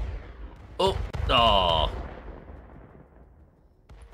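Explosions boom in a golf video game played on a ceiling, a sharp blast followed by a louder rumbling burst that fades into a long tail, while a person exclaims briefly.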